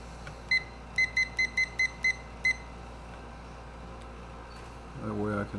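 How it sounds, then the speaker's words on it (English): An egg timer being set gives a short run of seven crisp, evenly spaced electronic beeps, followed by a brief quiet hum and then a moment of talking at the end. "can set the ever important egg timer"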